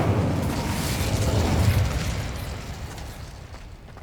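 A fire spell is cast in the Hogwarts Legacy video game, giving a loud, sustained whooshing roar of flames with a deep rumble that holds steady for several seconds and then slowly fades.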